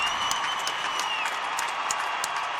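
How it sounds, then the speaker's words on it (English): A large stadium crowd at a women's artistic gymnastics world championships roars and applauds continuously. Dense clapping and cheering fill the space evenly, with a few sharper shouts and whistles standing out above the steady wash. "You hear the crowd roaring here at the Olympic Stadium"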